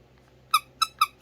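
Four sharp squeaks from a small starfish-shaped squeaky puppy toy, evenly spaced and close, standing out against a quiet background.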